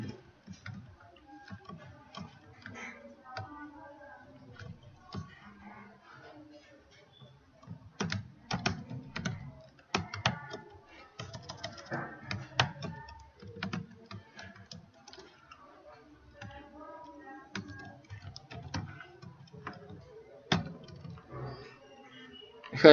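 Close, light keystrokes on a computer keyboard while printf code is typed, in irregular bursts of soft clicks spread over about twenty seconds, some quicker runs mixed with pauses.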